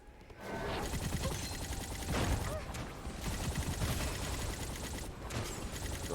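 Rapid machine gun fire from dual-wielded heavy weapons in the action game Four Flasks, dense overlapping bursts with crashes and whooshes running almost continuously, loud and busy with brief gaps.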